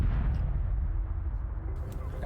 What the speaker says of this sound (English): That was that explosion right there.